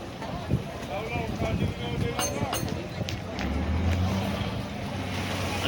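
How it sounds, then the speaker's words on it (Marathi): A ferry pulls away from the Gateway of India in Mumbai, bound for Mandwa and Alibag: a steady low engine rumble under continuous wash of water and wind, with people talking nearby throughout. "मुंबईला बाय बाय करत गेटवेवरून ही आता बोट सुटलेली आहे"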